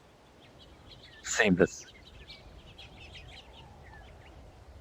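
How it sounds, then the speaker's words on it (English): Faint simulated bird song from the Ultimate Fishing Simulator VR game: scattered, high chirps running softly in the background, briefly covered by a louder burst of a voice speaking. "Simulated bird song."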